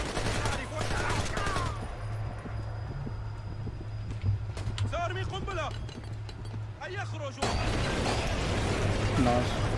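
Gunfire in the stealth shooter Splinter Cell: Conviction comes as scattered pops and short bursts over steady game ambience, with a voice speaking across much of it.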